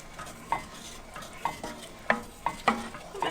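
A spoon stirs chocolate and butter into a warm syrupy sugar mixture in a pan off the heat, for a gluten-free chocolate cake, giving soft scraping strokes and a few light taps against the pan at an irregular rhythm, close by.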